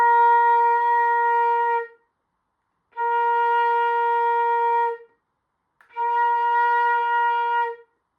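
Three sustained flute notes on an alternate B-flat fingering, each held about two seconds with short gaps of silence between them, clear and close with a steady, breathy tone and no talking.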